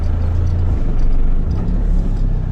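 A four-wheel-drive car grinds along a rough pipeline track on a Lithgow bush trip, its engine a deep, steady rumble close by throughout with no one speaking.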